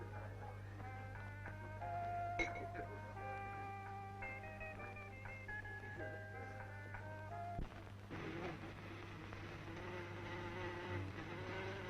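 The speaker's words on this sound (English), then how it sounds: "Insects! Insects!" A swarm of insects buzzes steadily, with shifting whining tones over a low hum, and a sharp bang cuts in midway before a broader, noisier buzz takes over.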